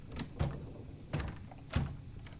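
A locked door in Return of the Obra Dinn is tried and rattles with three dull, evenly spaced thuds over a quiet ambient background.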